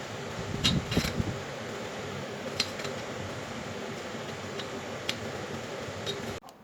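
An electric ceiling fan runs indoors as a steady whooshing hum with faint ticking and a few clicks, fairly close, then stops abruptly near the end.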